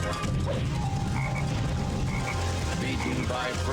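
A video game frog croaks in short repeated bursts beneath a dense, busy game soundtrack and effects, with a voice talking over it.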